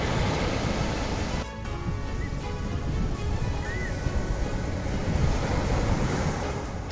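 Flood water from the Brahmani river surrounding a school, a loud, continuous rushing wash with wind buffeting the microphone.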